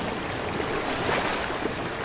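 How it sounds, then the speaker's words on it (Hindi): Flood water sloshing and splashing steadily as a house is rowed with an oar, a continuous broadband wash of water with no voices. "बल्लू चप्पू चलाकर घर को बाढ़ के पानी में उतार देता है"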